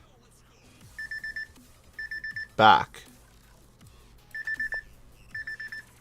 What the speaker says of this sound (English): My alarm to head off to school.